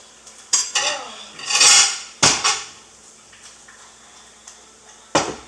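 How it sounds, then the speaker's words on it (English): Clattering clinks and scrapes of a casserole dish being handled in a home kitchen while making cheesy beef noodle casserole, a few sharp knocks and a longer rattling shuffle, close and fairly loud with no talk. "I hope this is the right size casserole dish."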